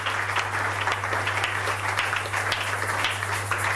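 A church congregation applauding, sustained dense clapping from many hands with a low steady hum underneath, filling the space without a break.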